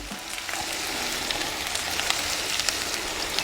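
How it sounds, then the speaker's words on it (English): Ground pork browning in a frying pan gives a steady, close sizzle scattered with small pops and crackles throughout. "once your pork has browned a little bit, not too much, you don't want to burn your pan"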